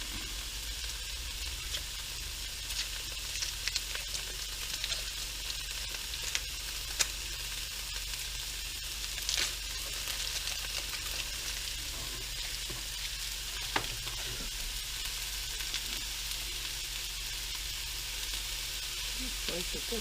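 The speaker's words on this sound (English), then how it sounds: "The onions are beginning to caramelize here, getting soft." Onions sizzling and caramelizing in a hot pan, a dense, constant frying hiss with occasional small crackles and stirring scrapes, fairly close and steady throughout.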